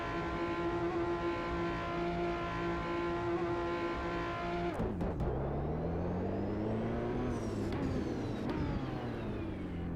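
Aston Martin Valkyrie engine in the racing game Automobilista 2, a loud high-pitched whine holding steady, then dropping sharply on a gear change before climbing again as it accelerates hard.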